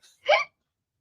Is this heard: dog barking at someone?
no